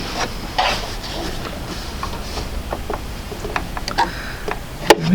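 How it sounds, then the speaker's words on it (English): A sewing machine stitches through fabric in quick, rhythmic ticking bursts, close and moderately loud, with brief pauses between runs and a sharp click near the end. "Control my threads and continue to sew."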